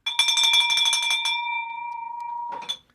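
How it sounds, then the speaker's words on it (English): A bell rings loud and close with a rapid clapper trill, and its bright tone sustains and fades before a second brief strike near the end. "I love ringing that bell"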